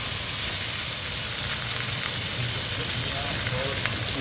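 Small fish pieces hiss and sizzle in hot tempering oil in a fresh pan, with a steady broadband frying crackle running throughout at close range.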